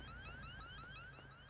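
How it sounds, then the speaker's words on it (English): A car alarm in a video game wails continuously with repeating rising electronic sweeps, steady and fairly loud throughout with no talking over it. "You should be able to turn the alarms off."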